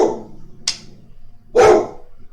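A dog gives two short, sharp barks a moment apart, loud and close, with a small high yip in between, and no talking around them.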